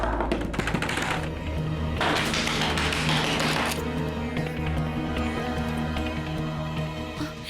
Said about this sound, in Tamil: ஸ்ருதி பயங்கரமா கதவை தட்டிட்டு இருக்காங்க.